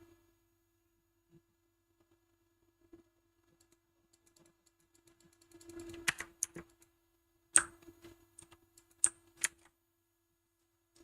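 A cluster of keyboard clicks from a gaming setup after near silence, followed by a few sharp, separate keystrokes with pauses between them over a faint steady hum.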